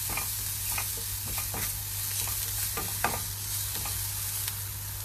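Onions fry in a pan, giving a continuous sizzle with irregular clinks and scrapes of stirring, close by, over a low steady hum and with no voices.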